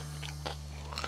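Someone bites into and chews crunchy homemade popiah, a few crisp crackling crunches close to the microphone over a steady background hum.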